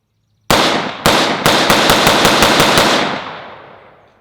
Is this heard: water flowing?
no